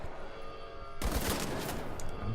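Enemy gunfire in the video game Wolfenstein The New Order, a rapid automatic burst that erupts suddenly and rattles on loudly after a quieter humming lead-in.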